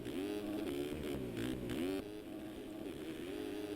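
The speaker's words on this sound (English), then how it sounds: "D-Mills does a little panic revving of his own" Dirt bike engine in the MX Simulator racing game revving hard in rapid bursts with rising and falling pitch, loud and close, then settling into a steadier drone.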